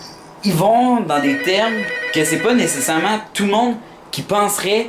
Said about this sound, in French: désolé pour le téléphone, sérieux, c'est vraiment pas prévu que ça sonne.